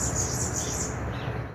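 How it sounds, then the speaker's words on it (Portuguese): Songbirds chirp and sing steadily over a low rumble of background noise, giving a calm rural garden feel with continuous tweeting throughout. "ao som do canto dos pássaros"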